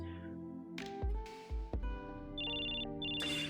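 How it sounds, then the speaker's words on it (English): A phone rings inside the story game Choices: Stories You Play, with electronic ringtone tones and chimes over a soft musical background, punctuated by a few louder bursts and a sustained bright ringing tone near the end. "your phone rings and your dad's contact picture pops up"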